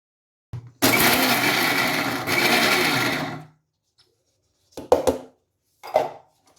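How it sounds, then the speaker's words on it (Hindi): Walnuts are coarsely ground in a mixer grinder: the motor roars in a loud burst of about two and a half seconds, stops, then gives two short pulses, all close and with no voices. "देखिए अखरोट भी हमारे दरदरे पीस गए"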